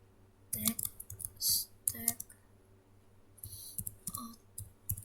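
Computer keyboard typing comes in short clustered bursts of key clicks, with brief pauses between flurries, close and moderately loud over a faint steady hum.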